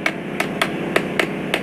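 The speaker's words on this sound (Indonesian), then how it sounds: "kita akan pukul dengan menggunakan palu-palu atau martil agar rapat" Six evenly spaced sharp metallic taps of a hammer knocking a water pump seal into place, close and crisp over a faint steady background hum.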